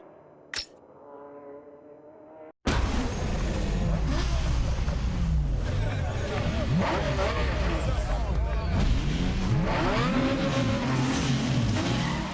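A Nissan Skyline GT-R engine in Need for Speed Underground 2 revs hard and runs continuously loud after a short quiet start, with tire squeals and a voice talking over it.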